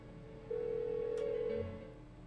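A telephone rings unanswered in Persona 4 Golden, one steady electronic ring tone lasting about a second, fairly quiet and alone, then fading out.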